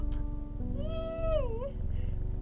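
A cat in the game Strange Horticulture gives one clear, drawn-out meow that rises and then bends down, close and distinct over a soft continuous background hum.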